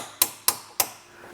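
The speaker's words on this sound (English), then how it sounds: "Definitely don't like hammering spanners like that, but when you need to." Three sharp metallic hammer strikes on a spanner fitted over a partly rounded nut during a Drift repair, evenly spaced and close, each ringing briefly before fading.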